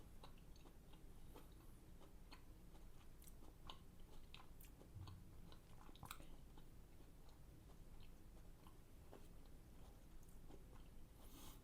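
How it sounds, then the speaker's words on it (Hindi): Someone chewing food up close, soft irregular crunches and bites repeating quietly over a low steady background hiss. "खूब चबाओ।"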